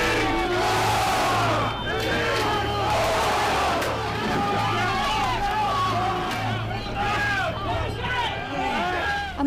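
A dense, loud crowd storming the US Capitol fills the air with overlapping shouts, chants and agitated yelling, a constant roar of many voices with a steady low hum underneath.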